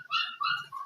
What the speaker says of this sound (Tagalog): Medyo maingay yung aso namin.